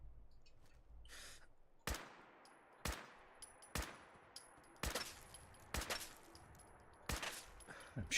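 Gunfire in Fallout 4 strikes a brick or rock, a series of about seven sharp, loud shots spaced roughly a second apart, each with a brief ringing tail, alone with no talk.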